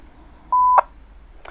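A short, steady single-pitch tone burst keys an amateur radio handheld to open the GB3VA repeater, followed by a click and a faint chirp of squelch.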